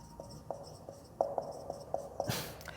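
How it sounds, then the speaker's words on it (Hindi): Marker or chalk writing on a classroom board during a class 10 science lesson on light, reflection and refraction: a string of short, soft scratchy strokes in an irregular rhythm, fairly close, ending in a louder scrape. "तो यहां पे लिख देंगे"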